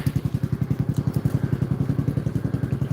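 A tractor engine idles steadily nearby, its low, even chugging firing in a rapid regular rhythm with faint clatter over the top, alone and without talk.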